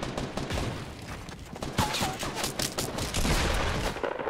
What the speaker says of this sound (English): Where are these bullets coming from?